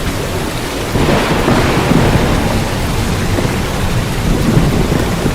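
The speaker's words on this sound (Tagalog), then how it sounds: "Ang lakas ng kidlat at kulob, umulan na." Rolling thunder booms over heavy, steady rain as part of a radio advertisement, loud and continuous with a swell of rumble near the start and no voices.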